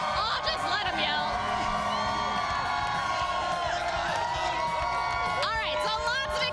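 Hundreds of excited fans yell and cheer at the 2013 Blackhawks Stanley Cup parade and rally, a dense, continuous roar of voices with whoops and shouts rising above it throughout.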